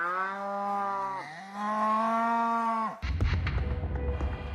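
A cow gives a long, loud, drawn-out moo with a dip in the middle. A rough, noisy rustle of livestock or farm sounds follows close by.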